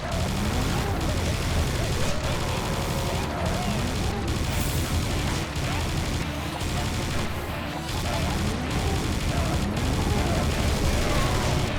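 Dense, continuous gunfire from Serious Sam 2, rapid loud shots hammering almost without pause alongside crashes and explosions.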